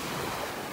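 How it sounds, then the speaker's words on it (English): Ocean waves wash onto a beach in North Naples, Florida, a brief, steady roar of surf with wind noise and no voices. "The sounds of the waves."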